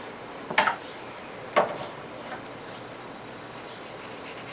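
A pencil scratches on paper while drawing a wineglass: two short, crisp strokes a second apart, up close against a quiet room, followed by a faint softer touch.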